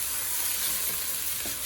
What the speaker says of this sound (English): I do not want to burn my garlic. But I do like it to be sauteed a little bit